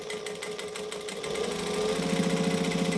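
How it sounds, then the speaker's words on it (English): A sewing machine topstitches a fabric strap, giving a fast, even mechanical rattle that is close and steady and picks up in pace partway through. "I'm going to take my strap and I'm going to top stitch 1/8 of an inch each side of the strap"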